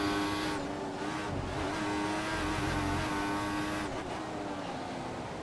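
A Formula 1 car's engine in the F1 2014 racing game screams steadily at high revs with sharp whining harmonics, briefly dipping during gear shifts, loud and continuous on a lap of the Hungarian Grand Prix.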